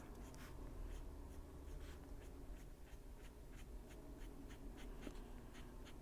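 A light-colored 990 coloring pen works across paper in soft, steady strokes with faint rhythmic scratches, heard close over a low hum and with no talking.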